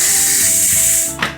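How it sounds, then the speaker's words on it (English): Steam hisses loudly and steadily out of a Ninja Foodi pressure cooker on force release, then tapers off with a brief mechanical click near the end. "We're just going to force release the steam and remove the pressure cooker lid"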